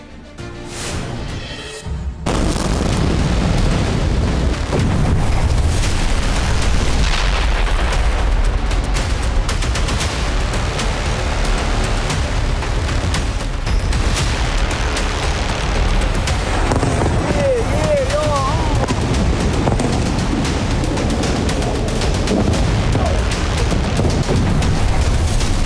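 Sejjil missile strikes hit Israeli military sites, making dense, continuous booming blasts and rumbling detonations with sharp cracks mixed in. A voice talks over the explosions throughout.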